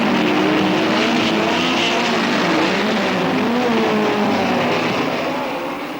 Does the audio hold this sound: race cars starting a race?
yes